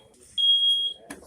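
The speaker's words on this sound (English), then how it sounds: "fire alarm" A smoke alarm shrieks in a kitchen after a mesquite-seasoned, oiled piece of meat goes under the broiler, giving one loud, steady high-pitched tone for about half a second before cutting off, followed by a brief clatter.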